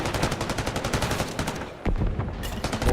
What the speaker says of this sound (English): Bullets exchange with no opener yet.